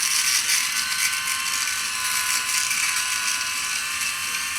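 A Sejoy BlackStone 3 electric rotary shaver buzzes steadily during a wet shave, a close high-pitched whirring hum with slight fluctuations as it moves over the skin.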